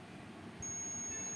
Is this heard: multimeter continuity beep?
yes